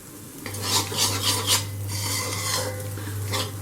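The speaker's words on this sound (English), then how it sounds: "Because I've put the flame on low, the egg gets scrambled in small," Egg scrambled in a pan over a low flame for chicken fried rice, a spatula scraping and stirring steadily against the pan under a faint sizzle and a constant low hum.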